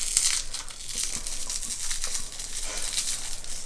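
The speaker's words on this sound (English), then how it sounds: "I will even unwrap it for you" Crinkly plastic lollipop wrapper, cherry flavored, being pulled open at close range, a continuous bright rustling and crackling for several seconds without pause.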